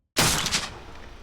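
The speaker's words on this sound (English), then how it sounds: "suddenly you hear this gunshot" A single gunshot effect cracks out abruptly after a moment of silence, loud and close, followed by a rolling decaying blast tail.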